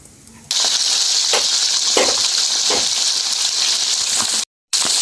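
Catfish frying in hot cooking oil, a loud, steady close sizzle that holds for several seconds, with brief crackling spurts and a short cut to silence near the end.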